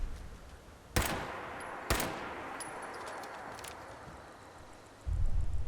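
Gunfire in Fallout 4: two sharp, loud shots about a second apart, each with a ringing tail, then a low rumble and a heavier burst near the end.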